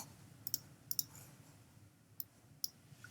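Sharp computer mouse clicks while dragging out a text box with the type tool in graphic novel software: about five crisp, close clicks in an irregular pattern over a quiet, hissy background.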